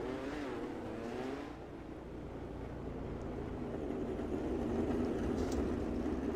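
A field of race cars rolls off in a sim racing game of the Chili Bowl Nationals dirt event, a steady engine drone building slightly in loudness over several seconds, with no talk.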